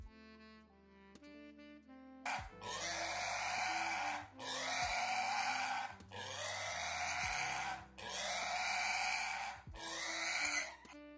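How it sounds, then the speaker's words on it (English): A pig grunting and squealing in four long, loud, harsh bursts, each about two seconds, close up, with soft background music underneath and no talking. "can that pig just like shut up and fucking enjoy the pets?"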